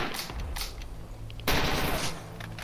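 Gunfire in the S.T.A.L.K.E.R. video game, rapid automatic bursts, with a louder, denser burst of shots near the middle, close and harsh.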